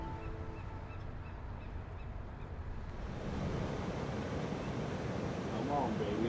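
Ocean waves breaking at a surf spot where top surfers ride big, dangerous waves, a steady broad roar that swells louder partway through, with wind buffeting the microphone and faint voices underneath.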